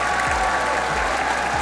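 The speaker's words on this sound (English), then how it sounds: "fans in Japan going mental for Na'Vi" A large arena crowd of esports fans in Japan at the Rainbow Six Pro League finals, loudly cheering and applauding for Na'Vi as a dense, sustained roar.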